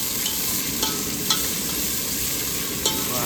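Onions fry in oil in a pan on a boat, with a steady loud sizzle and a few sharp scraping stir strokes spaced through it.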